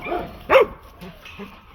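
A dog gives a single short, sharp bark at close range, preceded and followed by softer whiny vocal sounds.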